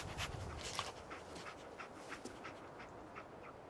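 Dogmeat, the dog companion in the video game Fallout 4, pants in quick, rhythmic, breathy puffs, faint and steady throughout.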